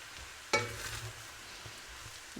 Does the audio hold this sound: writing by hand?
no